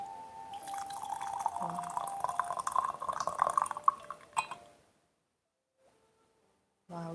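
Just-boiled water over 90 degrees Celsius poured into a vessel for Tibet black tea, a rising trickling stream for several seconds that stops abruptly into silence, with a faint clink afterward.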